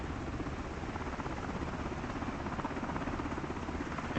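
A helicopter near a restricted hangar area makes a steady, dense rotor and engine roar with no breaks. It is fairly distant and constant and no voices are heard.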